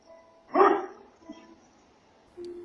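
A single loud dog bark at close range, followed by a quieter low yip and a faint steady tone near the end, with no talking.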